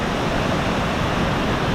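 Langvoku waterfall in Karbi Anglong, Assam, a constant dense roar of falling water, close and even in loudness throughout with no voices.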